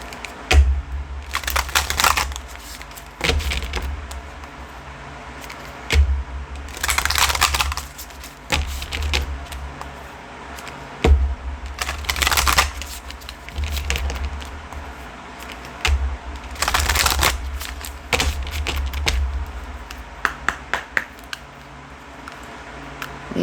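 A Healing Waters Oracle card deck is shuffled in repeated bursts of papery riffling and rustling, close and fairly loud, with short pauses between rounds and no talking.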